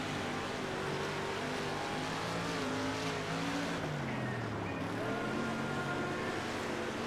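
Dirt race cars roaring around a dirt oval in World of Outlaws: Dirt Racing, a dense steady engine drone with several overlapping motors rising and falling in pitch as the pack circles, continuous and loud throughout.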